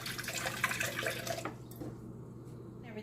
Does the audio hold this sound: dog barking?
no